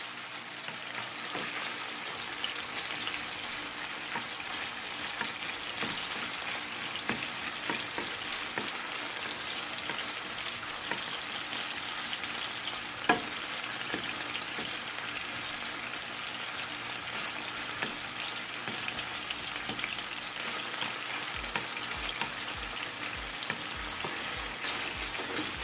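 Chicken pieces fry in a pan with a continuous loud sizzle and crackle, broken now and then by scraping knocks as the pieces are flipped.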